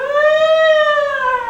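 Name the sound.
siren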